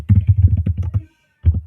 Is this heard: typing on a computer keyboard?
yes